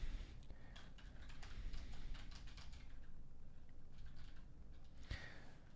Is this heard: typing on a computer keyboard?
yes